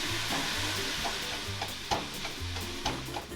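Ground pork browns in a pot with a continuous close sizzle, broken by occasional spatula scrapes and stirring knocks, steady and moderately loud with no voices.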